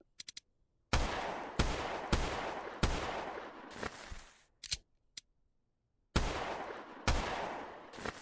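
Pistol shots in the VR shooter game Tactical Assault VR: a handful of sharp, loud single shots spaced roughly a second apart, each with a short decaying tail, with quiet mechanical clicks between groups and no talking.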